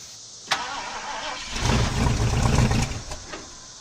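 A 1973 Ford Torino with a swapped LS V8, held running on brake cleaner, cranks with a sharp start and then roars loudly and unevenly for a couple of seconds before dropping back.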